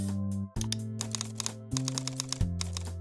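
Fingers type an application name on a computer keyboard, quick close clattering keystrokes in short bursts with brief pauses between, over a steady electronic hum.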